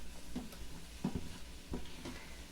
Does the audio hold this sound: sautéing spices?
yes